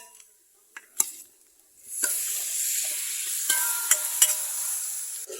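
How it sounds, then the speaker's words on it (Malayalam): Chicken pieces dropped into a hot pan of roasted fried chicken masala, a few knocks and clatters giving way to a loud, steady sizzle with scattered stirring clicks, close and without talk. "ഇനി നമുക്ക് ഇതിൽ ചിക്കൻ ഇട്ട് കൊടുക്കാം."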